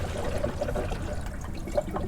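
Coolant mixed 50-50 with water is poured into a Lyle spill-free funnel on an FZJ80 Land Cruiser's cooling system, giving a steady close gurgling trickle with small bubbling glugs throughout.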